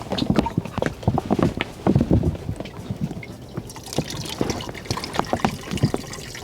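Seawater splashes and trickles into a pot being refilled to boil down for sea salt, an uneven stream of pouring and dripping that is close and fairly loud, with no one talking.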